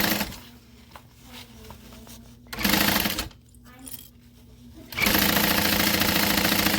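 A sewing machine stitches an Isolina garment from Oro Rosa in bursts: short runs of rapid mechanical whirring broken by pauses, with a long, loud, steady run at the end.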